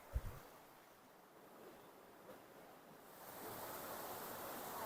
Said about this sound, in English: Welcome to the Robinson River